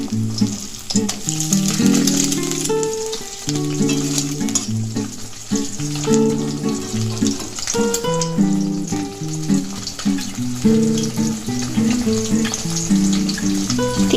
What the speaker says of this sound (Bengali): ডিম ভাজা হচ্ছে